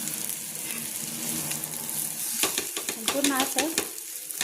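A potato tikki sizzles on a pan for a nutritious breakfast, with a steady frying hiss throughout and clattering stirring and scraping near the end, as someone briefly speaks over it.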